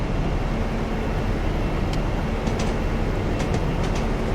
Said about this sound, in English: this is an old classic train here, the old InterCity 125